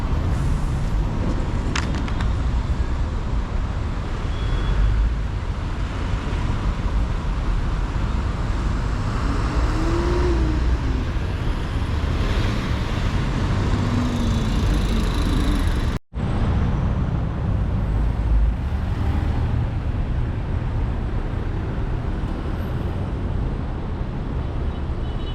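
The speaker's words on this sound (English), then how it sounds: "So we have lots of vehicles joining here. That's why you can see the traffic." Steady road traffic at the Ngong Road viaduct construction site in Nairobi, with many vehicles merging: a continuous broadband roar of cars, buses and trucks passing near, loud throughout, with a brief dropout partway.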